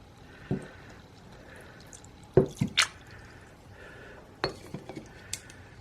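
Salty water drips onto a plasticine wall in a quiet setup, giving a few sparse, close wet taps and clinks, clustered irregularly with brief pauses between them.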